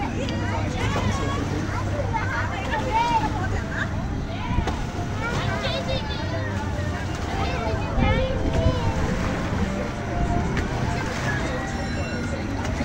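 Boats on the water at a Paulton's Park ride in Southampton, heard as a loud, continuous outdoor wash of water and wind buffeting, mixed with crowd babble, children's shouts and voices talking throughout.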